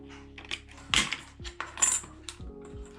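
A blade slicing a slit in a leather strip for Harris hawk jesses, heard as several close, sharp cutting clicks and scrapes with small knocks against a hard surface, no talking.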